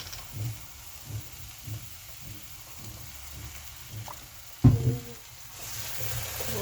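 Oil goes into a hot pan at home, answered by a brief loud crackle and a steady low sizzle that carries on under soft stirring scrapes.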